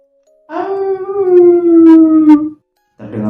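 A human voice mimics a wolf howl in a horror story, one long, loud, wavering, tonal howl close by lasting about two seconds, then a brief pause and the start of another sound.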